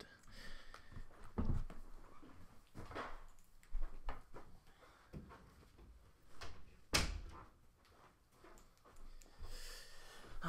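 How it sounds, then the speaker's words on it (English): A bedroom door being shut at home, with a sharp loud thump partway through among scattered knocks, muffled household noise and faint background voices. "I had to get up and close my door because my family, of course, is being loud"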